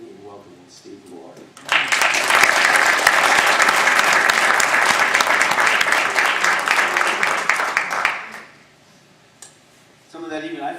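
An audience applauds at a talk on civility and artificial intelligence, a dense burst of clapping lasting about six seconds before fading, with brief talking before and after.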